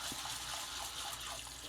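Red lentils being rinsed in water, a steady close wash of splashing, gushing liquid that runs without pause, with no voices over it.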